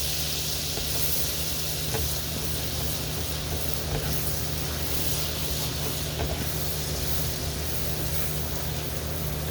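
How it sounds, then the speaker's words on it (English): Butter sizzles and hisses steadily in a hot pan as pork loin drippings are stirred in, a constant close frying noise with faint scraping, no talking. "I'm just gonna mix that all in with my butter."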